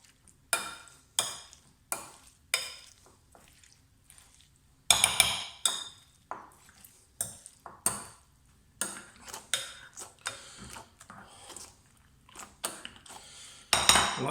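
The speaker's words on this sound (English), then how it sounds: "the first thing we're going to do is get mashing" Chopped boiled beetroot being mashed in a bowl for vada pav filling makes a steady series of dull thuds with clinks of the masher against the bowl, about one strike per second with short pauses, close and alone.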